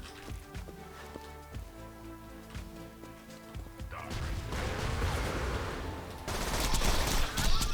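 Rapid bursts of gunfire from Borderlands 2 crackle and pound, starting as scattered shots and building into a dense, loud stream of firing and impacts mixed with game effects.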